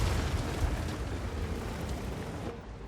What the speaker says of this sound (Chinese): 突然冒出来的敌人坦克，重重的挨了我一炮